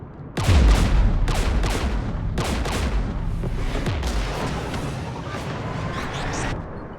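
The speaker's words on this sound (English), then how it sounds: "We're taking fire." Gunfire and artillery in the video game Mass Effect 3: a loud opening blast followed by repeated heavy booms and crackling shots over a dense, sustained battle roar.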